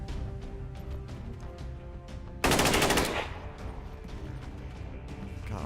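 Overwatch gunfire in XCOM 2, a single sudden burst of rapid automatic shots lasting about half a second, loud against quieter game sounds before and after.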